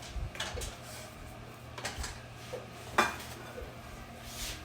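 Food for a shrimp, rutabaga and cheese keto bake is spooned into a pan, giving scattered clinks and scrapes of utensil against cookware, moderately close and fairly quiet.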